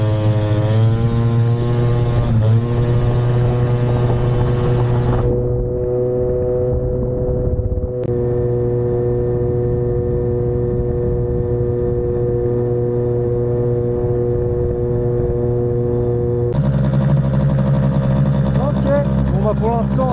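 A scooter fitted with a Malossi Multivar variator accelerates at full throttle on the road, a loud, steady high-pitched two-stroke whine that holds for a stretch, drops briefly and then surges back up.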